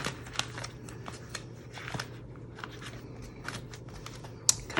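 Planner Kate meal sticker sheets rustle and crinkle as someone rummages through them, a quiet, close, papery shuffling with small crisp clicks and no talking.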